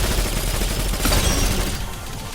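Rapid burst of gunfire from the pocket pea shooter in a Roblox gun game, a dense, loud rattling volley lasting a couple of seconds with no pauses.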